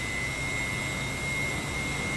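Su-33 jet engines spool up in a DCS World flight simulator, a steady turbine whine with a sharp high tone held over a low, even roar, constant and fairly quiet throughout.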